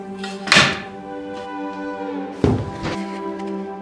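Big pieces of firewood are dropped onto a well-started kindling fire, giving two solid wooden thunks about two seconds apart over a steady low background hum.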